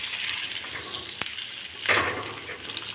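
Bread and semolina snack frying in a pan as red chili powder is stirred in, a steady loud sizzle with a sharp utensil tap and a brief swell of scraping.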